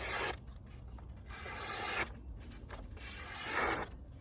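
A Higonokami folding knife with an SK5 steel flat-ground blade shaves and carves wood in steady scraping, rasping strokes, close and fairly quiet, with short pauses between passes.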